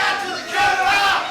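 A wrestling arena crowd at a Rocket City Championship Wrestling event gives a mixed reaction of shouts and cheers, a dense roar of many voices swelling slightly midway.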